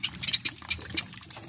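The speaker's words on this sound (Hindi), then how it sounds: "और ये पानी जो है इसके अंदर जो है आपने ऐसे जो है डाल देना है इसके अंदर" Water poured into a container for protecting a bird's soft food from ants, soft irregular splashing and trickling close by, faint and brief.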